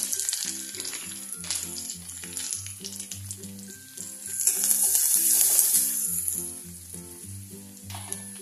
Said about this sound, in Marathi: कांदा आपला थोडा भाजून झालेला आहे। याच्यामध्ये 1 पाव चमचा होईल एवढी हळद घालू।